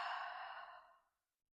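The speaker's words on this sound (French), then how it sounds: "J'expire avec la bouche bruyamment." A single loud, breathy exhale through the mouth during yoga breathing, airy and close, fading to silence after about a second.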